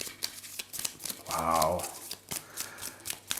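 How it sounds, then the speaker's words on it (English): A deck of cards is shuffled during a solo game of Pantheon, with quick riffling and slaps in close detail and a short spoken exclamation in the middle. "Nona's turn, let's shuffle her deck."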